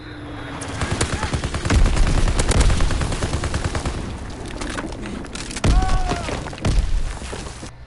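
A WW2 video game battle with rattling machine-gun fire, repeated gunshots and heavy booming bomb explosions, loud and dense, ending with sharp blasts, with a voice briefly heard under the noise.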